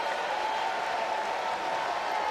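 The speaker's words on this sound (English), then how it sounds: "Bit of a roar from the crowd on finally getting Colin Barzy out" A baseball crowd at Vanderbilt versus Texas A&M cheers and claps in a sustained, dense wash of applause and roaring after an out, loud and even throughout without a break.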